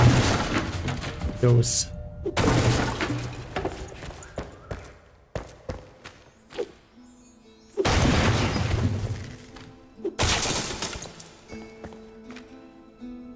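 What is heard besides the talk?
axe destroying objects in a video game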